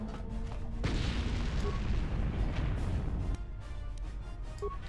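A frag grenade going off in Star Wars: Knights of the Old Republic, heard as a loud blast that sets off a sustained, dense rumble of combat noise, which drops off sharply near the end.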